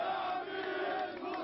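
Crowd of young Al-Aqsa brigade members marching through the streets of Gaza, a dense, steady roar of many voices and shouts held at a constant loudness throughout.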